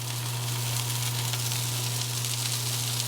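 A buttered hot dog roll toasts on a hot cooking surface, giving a steady, faint sizzle and hiss over a low constant hum, with no talking.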